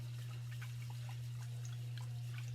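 Water swishes and trickles softly as rice is rinsed, with faint splashes and drips scattered over a steady low electrical hum.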